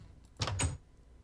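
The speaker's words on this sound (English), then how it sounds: "Preferably without opening up the doors" Two quick wooden door clicks in Minecraft, a pair of short soft clunks close together over a quiet game background.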